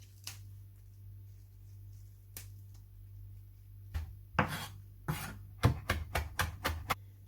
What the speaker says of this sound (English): Once you've chopped your mint really fine